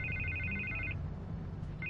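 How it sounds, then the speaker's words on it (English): A telephone rings in the Batman Telltale video game, its electronic trill sounding in a steady burst, breaking off, then starting again near the end over a low background hum. "I can't get the phone to stop ringing"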